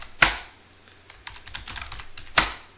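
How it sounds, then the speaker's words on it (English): Password being typed on a computer keyboard in a terminal: a loud keystroke, a quick run of lighter clicks, then a final heavy key press like Enter, with no voices. "type our password"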